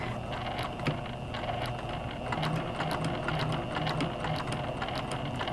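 A sewing machine runs steadily, stitching fabric around a dog bone shaped toy with a quarter-inch seam allowance, a continuous close mechanical whir with a rapid needle rhythm and no talking.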